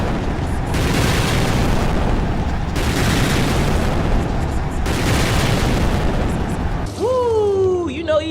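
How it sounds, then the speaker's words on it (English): A wrestling ring explodes in an electrified barbed wire death match in AEW Fight Forever, with loud, sustained rumbling blasts that swell in several surges before a voice cuts in at the end. "there's a 2-minute countdown, and once the 2 minutes is up, the ring is going to explode"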